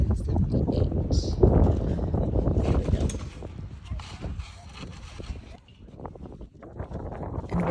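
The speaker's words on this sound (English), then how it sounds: "it's probably annoying to hear the wind in my microphone" Wind buffets a microphone outdoors at an antique flea market, producing gusty low rumbles that rise and fall while a person talks over them throughout.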